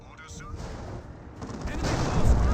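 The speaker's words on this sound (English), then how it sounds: "Missile launcher does hit onto the Lehman Russ there." In a Dawn of War 2 battle, a missile launcher fires at a Leman Russ tank, producing a dense, continuous rumble of explosive blasts and gunfire that swells louder toward the end.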